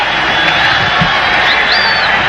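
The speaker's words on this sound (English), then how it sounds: "The crowd is alive, everybody on their feet" A stadium crowd roars and cheers at a 1997 Monday Night Football game in Foxborough between Green Bay and New England, a dense continuous din with a few whistles rising above it.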